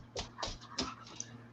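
Dog whimpering in short high yelps and whines, three or four quick bursts, faint against a quiet outdoor campfire background.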